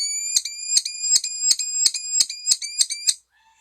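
A chatty bird named Perry at a wildlife center calls out in a rapid series of about nine bright, piercing, evenly spaced chirps, loud and close, alone with no talking.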